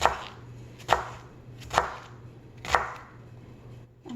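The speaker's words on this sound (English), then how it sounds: "I'm going to split these bigger pieces of bok choy down the middle and just keep slicing" Kitchen knife slicing through wilted bok choy on a cutting board for chicken soup: four crisp, evenly spaced chops about a second apart, close and fairly quiet, with a low steady hum underneath and no talking.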